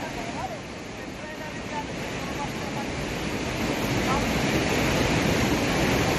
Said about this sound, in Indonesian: Banjir menerjang sejumlah kecamatan di Luwu, Sulawesi Selatan pada Jumat pagi akibat meluapnya sejumlah sungai